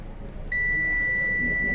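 Continuity tester on a multimeter beeping while probing an MSI B450M motherboard under repair, a steady high electronic tone that starts abruptly after a brief pause and holds loud and unbroken.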